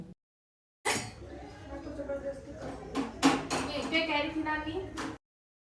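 Dishes, pots and utensils clatter in a home kitchen, with repeated clinks and knocks of metal and crockery under running-water hiss for several seconds, then stopping.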